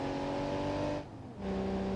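A struggling car engine in the BeamNG Drive driving game, loud and close, droning steadily, briefly dropping away, then droning again at a lower pitch.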